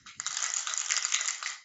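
A pair of dice tumbling and clattering across a surface during a board game roll, a brief dense rattle of hard clicks lasting over a second before settling.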